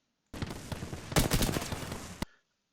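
Automatic gunfire from a firefight in the Apex Legends battle royale game, a dense continuous burst of rapid shots lasting about two seconds with a louder, heavier stretch midway before cutting off abruptly.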